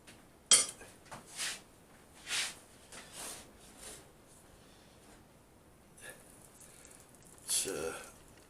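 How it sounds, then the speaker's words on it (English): Beef and vegetable casserole is stirred in a casserole dish in a home kitchen, giving a few scattered clinks and scrapes of utensil on dish between quiet pauses. "you should give it a mix halfway through, because it starts to stick to the casserole dish"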